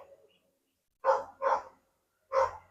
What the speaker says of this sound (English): somebody obviously has upset the dogs nearby and they just decide to bark